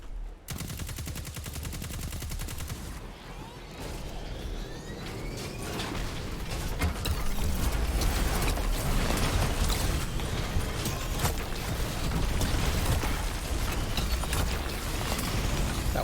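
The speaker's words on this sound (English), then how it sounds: "That was a tank." Heavy gunfire and explosive blasts from a tank in the Destiny 2 game, with repeated sharp bursts over a continuous loud battle din, no talking.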